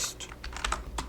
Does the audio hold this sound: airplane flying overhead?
no